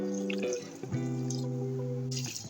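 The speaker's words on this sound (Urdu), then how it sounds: "اور اب میں اس میں 2 گلاس پانی ایڈ کروں گی۔" Two glasses of water poured into a cooking pot for shami kabab, a close, steady pouring gurgle with ringing tonal resonance, interrupted briefly between pours.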